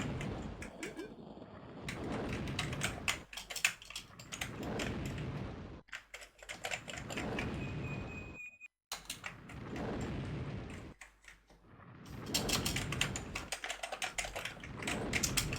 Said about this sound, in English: Pressing the keyboard controls to see if I can get it to do anything